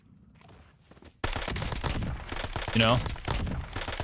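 Rapid bursts of gunfire from a weapon in a tactical shooter game crack out in dense volleys after a quieter opening. Someone talks over the shots.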